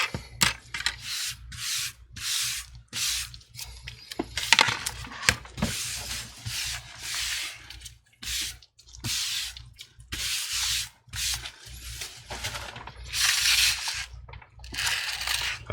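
Broken glass shards from a cracked iPad 9th generation screen being wiped off a table, repeated close scraping and rubbing strokes in an uneven rhythm, with small clinks between passes.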